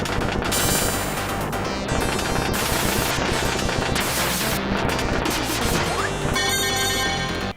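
Rapid gunfire and explosive missile blasts from the NES tank shooter Jackal, a dense continuous barrage of game sound effects with crashes layered over background music, loud throughout.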